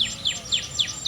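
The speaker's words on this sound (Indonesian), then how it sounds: "Oke, kita bisa dengarkan suara burung." A bird repeats a quick descending chirp about four times per second at a swamp plantation where areca palms grow, close and clear over a quiet background.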